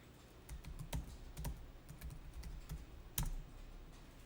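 Keys clack on a computer keyboard as accounting data is entered, a steady run of quick, light taps with a few sharper strokes, near and alone with no talking.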